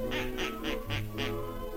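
Ducks, migratory birds hunted for sport, give five evenly spaced quacks in a quick run, close and clear, with nothing else over them.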